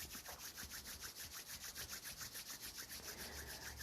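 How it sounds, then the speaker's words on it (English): Two palms rubbed briskly together during a guided meditation, a steady swishing back-and-forth friction of about four strokes per second, close and soft, with no voice over it. "rub your hands together."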